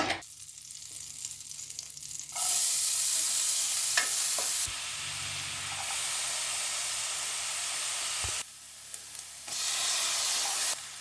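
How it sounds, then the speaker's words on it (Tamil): Leftover onions and tomatoes saute in butter and oil for paneer gravy, sizzling loudly and steadily in bursts that swell and drop as they are stirred in the pan, with occasional spoon scrapes. "இப்போ நம்ம மிச்சம் இருக்கிற வெங்காய தக்காளியை வதக்கி எடுத்துக்கலாம்"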